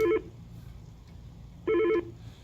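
A desk phone signals an incoming call with two short warbling electronic ring bursts spaced well apart, loud and close over a low background hum.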